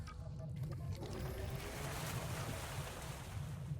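A submarine dives into water in the video game Harold Halibut, heard as a steady, full rush of churning water and low rumble that holds through without pause.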